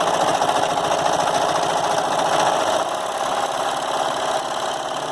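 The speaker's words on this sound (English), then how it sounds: "we have a working serger" A Brother 1034D serger, just repaired after a timing fault, runs Dalmatian-print fabric through in a continuous, close, loud motorized whir with rapid rhythmic stitching and a slight drop in level partway through.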